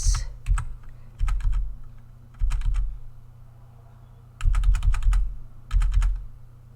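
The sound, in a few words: tapping keys on a computer keyboard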